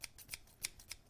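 Scissors snip at an envelope with something jammed inside, giving six quick, crisp cuts at an uneven pace, faint and close with no voices.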